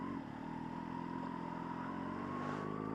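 A motorcycle rides along a quiet road, its engine giving a steady, fairly faint hum with a slight rise in pitch and no other traffic.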